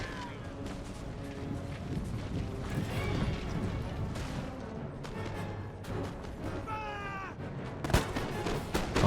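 Musket volleys and battlefield din from the video game Empire Total War, a continuous crackling roar of gunfire with scattered sharper reports and faint high whistling tones throughout.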